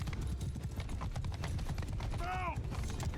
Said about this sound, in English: Horse archers have arrived as well.